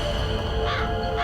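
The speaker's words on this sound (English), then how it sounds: "A raven?" A raven caws once, a single hoarse call that stands out briefly above a steady layer of ambient noise and music.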